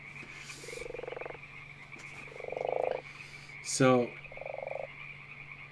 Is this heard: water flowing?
no